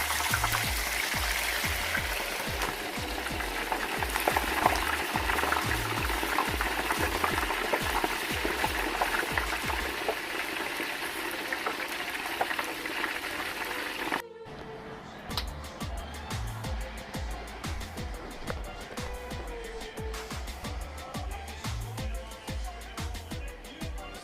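Snapper fish laid into oil at 375 degrees fries with a steady crackling sizzle, broken by a brief drop-out midway, with faint background voices and kitchen noise under the frying.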